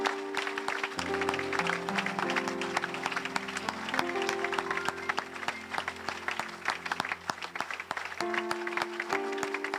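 A church congregation applauds with continuous dense clapping for about ten seconds, while sustained organ or keyboard chords play along underneath.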